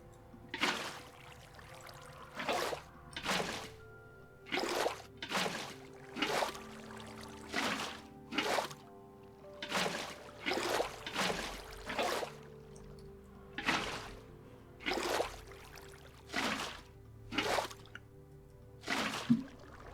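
Water poured in a video game, a steady series of short splashing drips repeating about every second, close and distinct with no talk.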